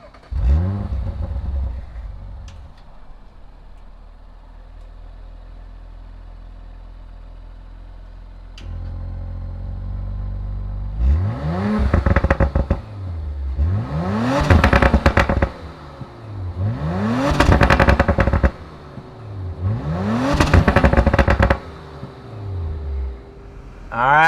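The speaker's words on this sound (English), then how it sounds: "why don't we go ahead, fire this thing up" A 2019 Audi RS5 engine cranks and catches, then settles into a low idle before four strong, rising revs that climb and fall in a steady pattern, loud and close with no voices.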